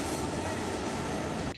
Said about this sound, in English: here's the train in Lexington